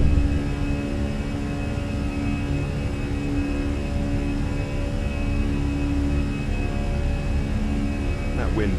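Airbus jet engines hold climb thrust in a flight simulator, a loud, steady whining roar with sustained tonal hum, unbroken for the whole stretch.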